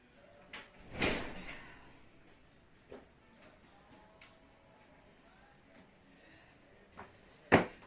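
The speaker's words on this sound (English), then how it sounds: "I'm going to close this because I think my door's broken." A broken door closing indoors, with a loud thud near the start, a few faint knocks and scrapes, and a sharp bang near the end.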